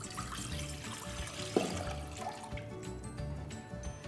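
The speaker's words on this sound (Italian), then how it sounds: "prendiamo un pentolino e versiamoci dell'acqua" Water is poured into a small pot, a faint, soft trickling stream heard close by with a brief clink of the pot partway through.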